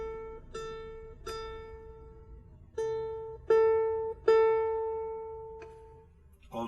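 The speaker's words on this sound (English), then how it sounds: "And finally, the A string." A ukulele's A string plucked repeatedly on its own, each clear ringing note decaying slowly before the next pluck, with several firmer plucks near the middle; close, clean and moderately loud.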